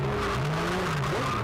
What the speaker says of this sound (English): You get down to the braking zone, going down the gearbox.